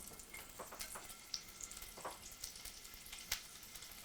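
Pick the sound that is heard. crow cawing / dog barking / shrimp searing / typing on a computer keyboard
shrimp searing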